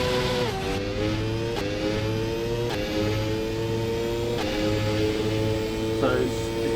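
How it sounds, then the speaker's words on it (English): Engine of a 1993/1994 Formula 1 car with a 6-speed gearbox in rFactor 2, revving steadily and climbing in pitch with a sharp drop at each gear change, repeated several times, loud and close under a steady low drone while someone talks. "So at the moment, I'm changing gear."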